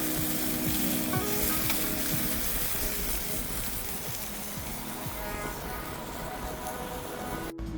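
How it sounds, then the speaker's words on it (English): Sausages sizzle steadily on a barbecue plate fitted beneath the cooktop of an 80 Series touring setup, a dense, continuous crackling hiss that stays loud and close throughout, with faint music or voice in the background. "Tonight, sausages on the barbecue plate."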